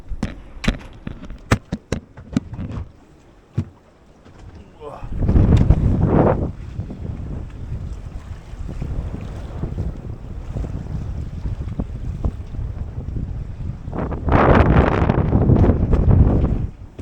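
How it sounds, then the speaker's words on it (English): Gusting wind buffets a sailboat at anchor, with sharp rattles and knocks early on, then two loud roaring surges of wind noise over a steady rush of wind and water. "The wind's picking up a bit."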